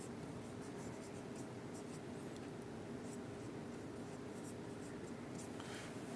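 Pen writes by hand on paper during accounting work, a continuous faint scratching and scraping with small taps, steady and close throughout.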